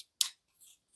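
Terraforming Mars corporation cards are shuffled, with one crisp snap of card stock followed by two softer, brief rustles.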